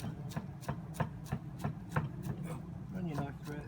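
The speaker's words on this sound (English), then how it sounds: "Now let's just chop those up" A knife chops fresh tarragon and chives on a board in steady, evenly spaced thumps, about a dozen crisp close cuts with a faint rustle of herbs between strokes.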